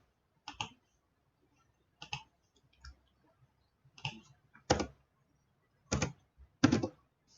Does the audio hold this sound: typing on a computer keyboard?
yes